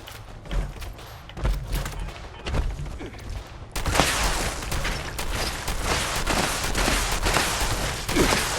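Gatling gun fired in the video game Fallout 76, giving loud sustained bursts of rapid automatic fire with thumping impacts that grow denser and more continuous partway through, with no talk.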